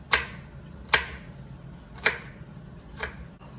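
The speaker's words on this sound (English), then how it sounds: "I'm just gonna cut the other way into little small pieces" A knife cuts lettuce strips into small pieces on a board, four crisp close chops spaced about a second apart, each a sharp crunchy strike, with no talking.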